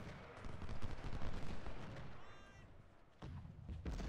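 Rifle and cannon fire from a Union brigade battle at Gaines Mill in Ultimate General: Civil War, dense rolling volleys and thumps at moderate volume with a brief lull near the end.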